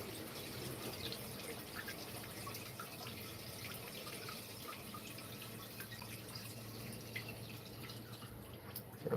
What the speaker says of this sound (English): Just going to refill the water